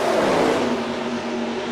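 Stock cars in the NASCAR Racing 2003 video game roaring together at full throttle off a turn, a dense, loud engine drone with a steady pitch and no voices.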